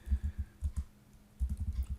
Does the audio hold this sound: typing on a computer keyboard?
yes